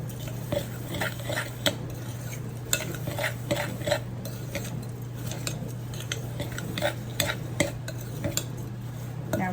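Butter-coated cookie crumbs stirred steadily in a bowl, the utensil scraping and clicking against the sides in a continuous run of soft strokes over a low steady hum, with no talk.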